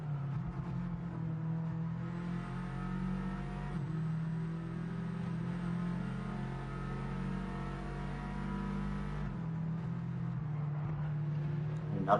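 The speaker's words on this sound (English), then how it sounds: "Another thing we've noticed about these Subarus is you're not using the entire rev range. They are shifting quite low down." A Subaru touring car in a TCR Cup race at Blue Moon Infield revs hard with a loud, steady engine note, then drops pitch as it shifts low in the rev range. No voices are heard.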